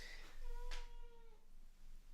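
A house cat gives a single drawn-out meow, clear and fairly close, with a brief sharp noise in the middle and quiet room hum beneath.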